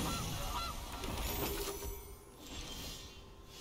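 Cartoonish goose honking plays in a digital card game as a Goose card is cast in a Historic Rakdos Goblins deck, a few loud honks over busy game effects and mechanical clicking.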